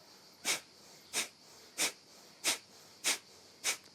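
Six sharp, forceful exhalations of a rhythmic yoga breathing exercise, evenly spaced about every half second, close and clear against a quiet background.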